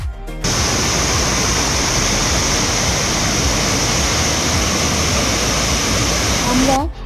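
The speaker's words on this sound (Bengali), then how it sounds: "এবার আমি আপনাদেরকে এখানকার জলের সাউন্ডটা একটু শোনাবো।" Water pours loudly and continuously at Bhimkund pool in Keonjhar, a dense, close rushing roar that holds steady for several seconds and stops abruptly at the end.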